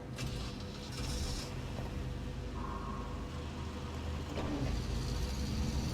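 Truck driving in the video game SnowRunner, a quiet steady engine hum with faint mechanical clunks and whirs throughout.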